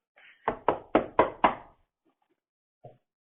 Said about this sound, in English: I'll go knocking on the door